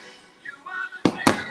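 Fireworks burst at night over Disney's Fantasyland, two sharp booming pops arriving in quick succession near the end, after a stretch of faint crowd murmur and distant voices.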